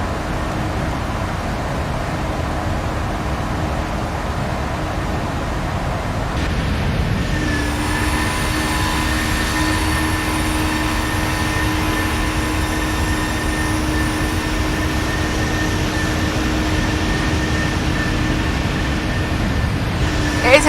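Steady jet engine drone of a Ryanair Boeing 737-800 cruising in Flight Simulator X, a continuous broadband roar with sustained whine tones that shift slightly partway through, no talking.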